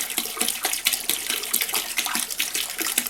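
Bottled water pours and splashes steadily into a container, a continuous close-up gurgling stream with small irregular bursts.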